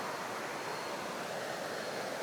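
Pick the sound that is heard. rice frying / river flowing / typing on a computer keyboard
river flowing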